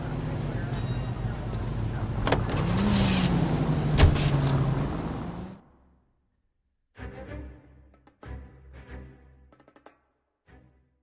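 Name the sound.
car driving in the video game L.A. Noire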